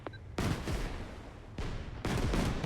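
Artillery fire in the real-time strategy war game Systemic War: a soft opening, then several heavy broadband blasts and rumbling bursts in quick succession, moderately loud with no talk.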